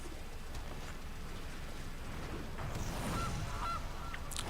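A goose honks a few times, faint and brief, over a steady hissing background in the Magic: The Gathering video game when a Gilded Goose card is played.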